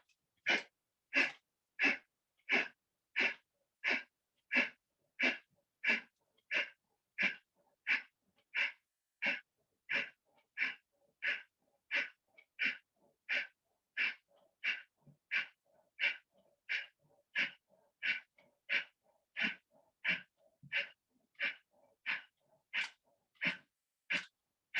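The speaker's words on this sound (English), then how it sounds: "take a deep breath in, breathe out completely" Deep, rhythmic breathing during a pranayama exercise, with a long run of regular, evenly spaced breaths, each a short airy puff, close and fairly quiet with no talk.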